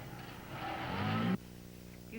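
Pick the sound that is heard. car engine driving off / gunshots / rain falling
car engine driving off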